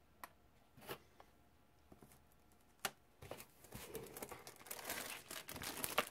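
Plastic bags from an AE Apex touring car RC kit crinkle and rustle as they are handled, starting with a few sparse crackles and building into denser, continuous crumpling toward the end, close and fairly quiet.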